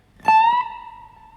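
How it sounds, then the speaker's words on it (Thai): A single acoustic guitar note on the first string at the 17th fret, plucked and bent up one whole tone, ringing clearly with a sliding rise in pitch before fading as it is stopped. "ดันขึ้นไป 1เสียงแล้วก็ใช้เทคนิคการหยุดสายนะครับ"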